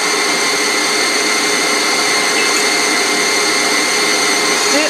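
A kitchen blender whirs steadily while whipping canned whipped cream for coffee ice cream, a loud, constant motor drone lasting throughout with no pauses.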